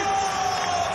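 Home crowd cheering at a Speedway Grand Prix heat, a steady dense roar of massed voices with a sustained high whine running through it, loud and unbroken throughout.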